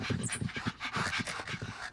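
Cartoon dogs panting, a quick rhythmic run of breathy huffs repeating evenly, close and moderately loud, with a faint high whimper near the start.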